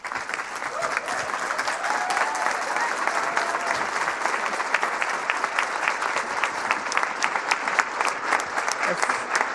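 An auditorium audience applauds steadily to welcome Justice Ginsburg at a university law school ribbon-cutting ceremony, a dense sustained clapping from a large crowd that holds at an even level throughout.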